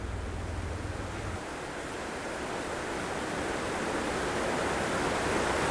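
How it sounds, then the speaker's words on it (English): Steady broadband rush of water pouring through a weir pool on the River Kennet, a continuous close roar that holds level and swells slightly toward the end, with no voices. "One of the weir pools on the River Kennet."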